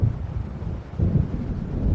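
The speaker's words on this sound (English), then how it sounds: "It seems there's a storm coming." A deep, rolling rumble of thunder from an approaching storm in the video game Alan Wake Remastered, loud and continuous, swelling again partway through with a windy, rain-like wash.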